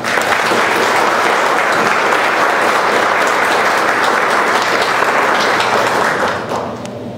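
An audience claps steadily and fairly loudly to welcome speaker Alexa Munoz at a talk about the Nokomis Club, with dense applause holding for about six seconds before tapering off.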